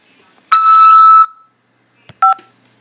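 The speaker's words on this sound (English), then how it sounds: "press 5 to accept this call." Telephone keypad tones sound during a collect call from a Nebraska jail: one loud sustained dual-tone beep, then after a pause a short second tone with a faint click, alone without speech.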